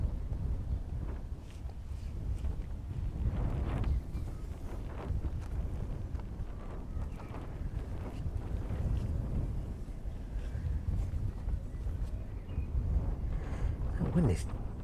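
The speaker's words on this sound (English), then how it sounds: "That wind is definitely picking up." Wind gusting at East Midlands Airport, a continuous low rushing and buffeting roar across the microphone that swells and eases, with someone talking through parts of it.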